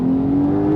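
Porsche 911 Sport Classic of the 992 generation, engine pulling hard in second gear from around 3,000 rpm, a loud steady droning tone held close and alone for under a second.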